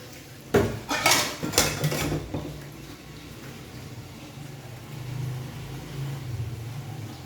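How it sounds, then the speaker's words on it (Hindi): Steel bowl that held ice, used for milk, scrubbed among a pile of dishes in a home kitchen: a cluster of sharp metallic clatters and scraping near the start, then a low steady background hum. "ये हमारा बर्फ़ वाला बॉल है, इसमें मैंने डाला दूध, जब और बर्तन ना मिले अब इसको मांजना होगा"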